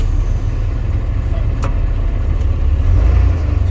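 A Douglas TBL280 towbarless pushback tractor drives in crab mode with a steady, loud low engine drone throughout, swelling slightly near the end.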